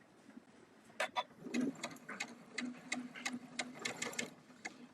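A sewing machine stitches across a leader cloth while piecing quilt triangles, a close, steady rapid chatter broken into short bursts with small clicks in between and no talking.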